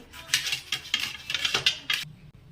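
A metal frying pan clatters and scrapes in a quick series of clinks and knocks as it is set onto a gas stove in a home kitchen, close and without any talking, then quiet.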